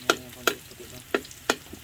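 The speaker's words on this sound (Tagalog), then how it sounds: "Ginigisa mo ba yung paminta?" Garlic and black pepper sautéing in a pan during outdoor farm cooking, with a faint steady sizzle broken by four sharp, close scraping stirs of a utensil against the pan.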